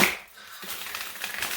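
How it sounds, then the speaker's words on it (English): Large oversized tarot cards rifle-shuffled in two halves, a close crisp burst of riffling and flapping card edges after a brief pause, fairly quiet and with no talk over it. "I wonder if I can rifle shuffle them."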